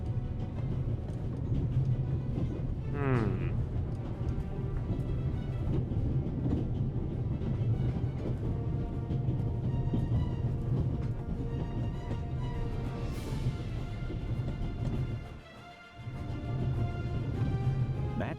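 Train rolling steadily along rails in the video game The Raven, a continuous loud rumbling drone with faint clickety-clack and a brief screech partway through, which dips for a moment before picking back up.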